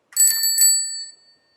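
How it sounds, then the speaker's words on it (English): A temporary bicycle-style bell is flicked several times in quick succession, giving bright metallic rings up close that then decay into a lingering tone before falling silent. "That's my temporary bell."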